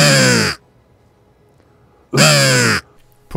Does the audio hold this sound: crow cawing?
yes